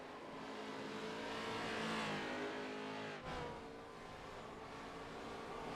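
GTE race cars in a sim racing game at Road America, engines roaring at high revs in a dense, continuous drone that swells, dips sharply, then carries on, with no voices.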